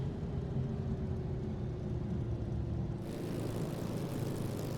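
Airplane engine running in Microsoft Flight Simulator 2024, a steady propeller drone with a low continuous hum that holds level, the broadband hiss growing brighter partway through.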